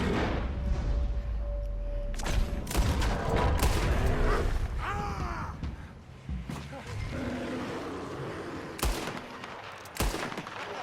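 Gunfire in Red Dead Redemption 2, several loud shots and cracks scattered through a noisy, chaotic scene, with voices shouting between them.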